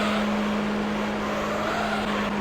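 Wankel rotary engine race car in Gran Turismo 3, a steady, sustained high engine drone held at constant pitch, loud and close with no talking.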